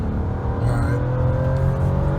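A 2017 Toyota Camry XSE V6 accelerating under throttle on the road while catching a truck, a steady loud engine drone with rising harmonics through the whole stretch.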